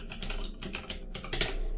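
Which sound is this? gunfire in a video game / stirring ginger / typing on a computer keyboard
typing on a computer keyboard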